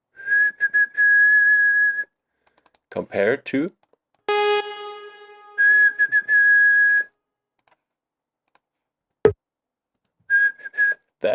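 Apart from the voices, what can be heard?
synth blip clip transposed up a semitone to G sharp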